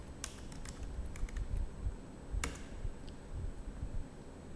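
Quick bursts of keystrokes as a command is typed on a computer keyboard, with crisp clicks in small clusters, one sharp louder tap near the middle, and short pauses between groups.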